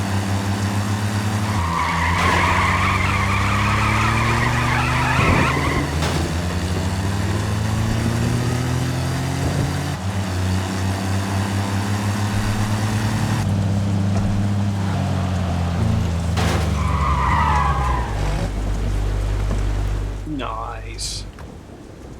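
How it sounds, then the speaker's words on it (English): Bulletproof Kaiser in The Saboteur, driven hard with a loud, steady engine drone that rises and falls, and tire skids squealing in bursts, all close and continuous with no talk. "This can be a tricky vehicle to find, the Bulletproof Kaiser."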